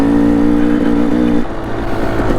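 Kawasaki KLX140RF dirt bike ridden by a kid on a single-track trail in Payson Canyon, its engine droning loud and close with a steady tone that drops and roughens partway through as the throttle eases.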